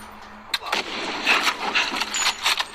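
Gunshots ring out in a film action scene, a series of sharp bursts spaced irregularly over a few seconds, moderately loud against a low background.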